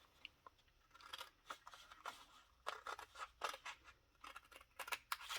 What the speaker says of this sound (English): So now I'm gonna cut again, and I'm gonna cut from here to that point.